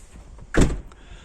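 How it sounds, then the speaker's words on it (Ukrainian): A door swings shut with a single firm, close thud on a snowy outing in the Carpathian resort town of Yaremche, with faint ambience before and after. "Закривай двері"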